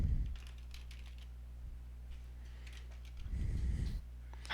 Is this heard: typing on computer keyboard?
yes